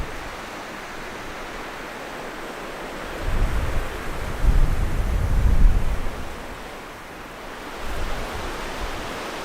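Strong gusting wind at a lake portage in Nova Scotia roars in a steady broadband rush, swelling into louder gusts midway and again near the end, with no voices.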